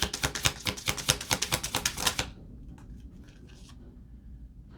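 Oracle cards riffled and shuffled from a deck: a quick run of crisp, rapid flutters and taps, fairly close and loud, stopping abruptly and followed by a faint, quiet room hush with no talk.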